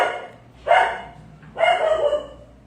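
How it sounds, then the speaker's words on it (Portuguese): A dog barks twice, loud and close, the two sharp barks about a second apart with a faint hum in between. "Vamos segurar que o cachorro tá enlouquecido hoje."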